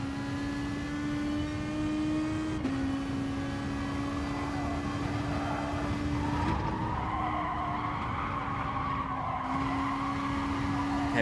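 A Corvette race car in the racing game GT Sport howls at steady high revs with gear-change steps, while tire skids and squeals hiss loudly over the engine for several seconds, continuous and close.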